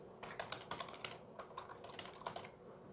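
Keyboard typing while a wallet name is entered during setup of a NEM mobile wallet, a quick, irregular run of soft clicking keystrokes, close and fairly quiet, with no talking.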